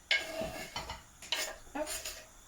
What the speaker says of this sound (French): les 3 oignons que je mets maintenant dans la poêle